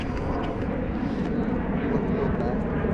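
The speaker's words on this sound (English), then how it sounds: "I hear a plane, but I don't see it." An airplane passes overhead at the Washington Monument on the National Mall, a steady broad engine rumble filling the scene with no speech over it.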